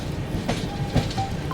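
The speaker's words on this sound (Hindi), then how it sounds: "इस पे हमसफ़र एक्सप्रेस जा रही है।" Humsafar Express train running along the route to Tirupati, a steady low rumble of wheels on rail with faint clicks and a brief tonal whistle, heard from nearby with no one speaking.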